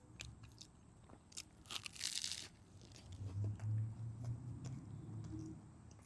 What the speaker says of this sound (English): This time we're eating an egg sandwich on sourdough bread.